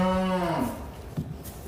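A single long, loud moo from cattle on an Alberta farm where newborn triplet calves arrived, followed by quieter shuffling and a soft thump, close by.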